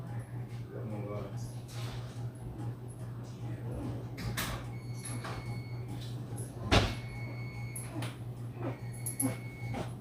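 A door opens with a single sharp thud and clatter about two-thirds through, set against a steady low hum and background household noise.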